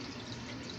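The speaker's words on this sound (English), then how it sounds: "will give enough bubbles and a lot of splattering of the water so the fish can breathe" Water splattering and bubbling in a 250-gallon fish tank sump, a steady, close wash of liquid noise with no pauses.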